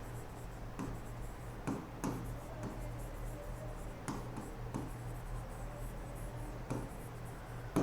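During a polity class, a teacher writes notes with a pen or marker in short scratchy strokes, a series of faint, irregular scribbles over a low steady hum.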